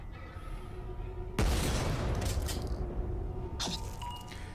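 A flashbang goes off with a sudden loud bang and a long rushing wash, followed moments later by a second sharp blast, likely the shotgun, in the Lovecraftian RPG Paracom.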